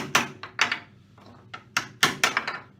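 Chisel knocks away glued clamp blocks from a cured Mirostone worktop: a series of sharp, close wooden taps and knocks, about seven irregular strikes, some in quick pairs, with no talk.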